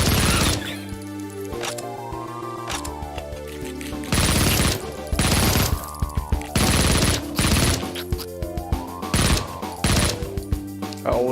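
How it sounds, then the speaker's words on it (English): Rapid Uzi fire shooting spiders in Project Warlock, loud close bursts of automatic shots in several long volleys, with game music and effects sweeping underneath. "I always liked shooting up spiders with Uzis."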